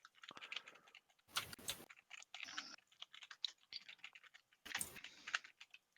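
Computer keyboard typing in uneven bursts of quick, sharp key clicks, with a few louder heavy clatters among them, close up and with no voices.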